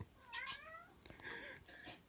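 A cat meows close by, two or three drawn-out, rising and falling calls in quick succession, with no one talking.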